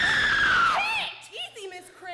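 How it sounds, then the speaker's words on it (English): A woman in a stage play lets out a loud, sustained high scream that slides downward and breaks off, followed by brief excited voices in a school auditorium. "Why did you scream?"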